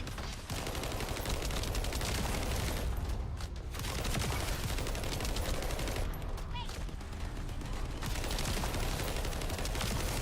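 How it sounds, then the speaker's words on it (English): Submachine gun fire in The First Descendant, rapid sustained bursts of automatic fire filling most of the stretch with two brief pauses, loud and dense. "Kind of a submachine gun."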